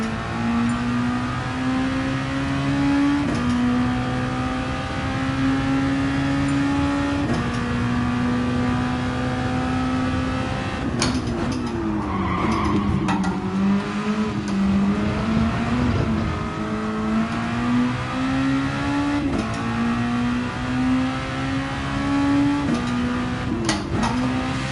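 A race car engine in GT Sport, driven on an out lap of the Dragon Tail circuit, drones steadily, rising in pitch through each gear before dropping at shifts, with a rougher burst of revving partway through.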